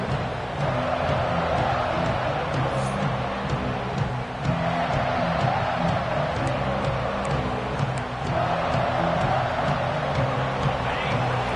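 A large football stadium crowd at a Georgia at Texas A&M game roars in a steady, dense wash of noise, loud and continuous throughout with a faint commentator voice beneath.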